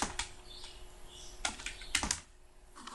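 Someone types the word search on a computer keyboard: a handful of crisp, close key clicks in an uneven rhythm, alone without any talking and with quiet gaps between presses.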